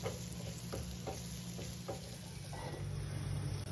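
Spiced gooseberries for a quick pickle being stirred in a covered pan, a steady close sizzle with soft periodic scrapes of the spoon and a low background hum, no voices.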